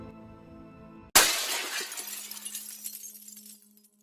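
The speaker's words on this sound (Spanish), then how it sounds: "los cristales de la habitación estallaron en 1000 pedazos" Window glass in a bedroom shatters with a sudden loud crash after a quiet tonal drone, followed by a spray of tinkling shards that scatter and fade over about two and a half seconds.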